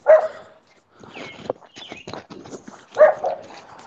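A dog barks out of an apartment window, with two loud nearby bursts at the start and the end. Softer bursty sounds and small knocks fill the gap between them.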